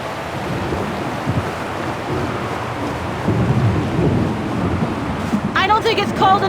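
A storm in the Syberia game world: steady broadband rush of wind and rain with low rumbling thunder swelling midway, loud and continuous, with a brief higher-pitched whistling or creaking tone near the end.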